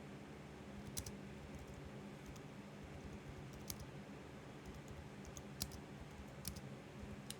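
Quick bursts of keyboard keys clicking as someone types to summon units in a typing video game, irregular clusters of sharp taps over a quiet low hum, no speech.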